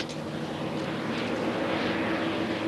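Jet engine noise from a BAE Hawk jet trainer at the Boscombe Down test pilot school, a steady broadband roar with a whine, fairly loud and continuous with no talk.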